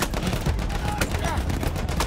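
A rapid burst of close gunfire from a weapon in the Battlefield 1 campaign mission Avanti Savoia, evenly spaced shots over a dense battle din.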